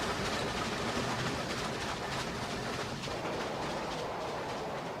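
A rapid train rushes past with a dense, loud roar and broad rumble, a continuous rushing wash of sound with no voices.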